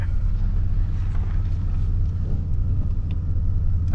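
A 1990s GMC Jimmy S-15 drives steadily with a loud, close, continuous low engine and drivetrain rumble as it shifts back out of gear, with no distinct revving.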